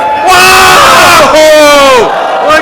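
A wrestling crowd at a live show cheers and yells, a loud, dense roar of many voices with rising whoops and shouts that surge and fall over a few seconds.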